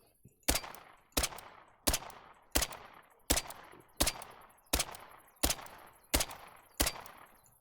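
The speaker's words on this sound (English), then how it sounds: "Steadily putting shots in him" Handgun shots in the hunting game theHunter: Call of the Wild fire at a steady pace, about ten sharp cracks roughly 0.7 seconds apart, each with a short decaying tail, fairly loud with no talk.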